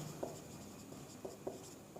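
A hand writes during a lecture, producing quiet scratchy strokes with a few light taps in an irregular rhythm and no speech.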